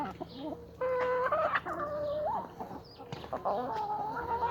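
Hens cluck repeatedly at a farm where eggs are collected, a steady chorus of overlapping calls and chatter with a few louder squawks close by, continuing without any talk.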